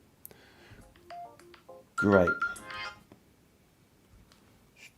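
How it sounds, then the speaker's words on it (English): A phone ringtone from a spam call plays a short melodic burst of tones, fairly loud and close, between scattered bits of a man's speech in a quiet room. "Stupid spam phone calls."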